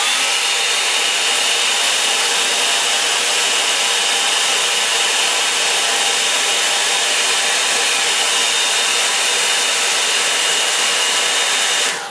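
A hair dryer blows steadily and loudly up close over a watercolour painting of autumn trees, a continuous roaring whoosh lasting the whole stretch with no talk.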